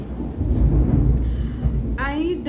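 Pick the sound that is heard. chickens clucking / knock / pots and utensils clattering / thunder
thunder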